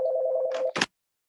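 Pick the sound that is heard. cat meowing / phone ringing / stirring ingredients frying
phone ringing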